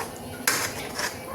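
A utensil scrapes and clinks against a cooking pot while kadhi, a yogurt-based curry, is stirred, one sharp metallic knock standing out in a short, close burst of sound.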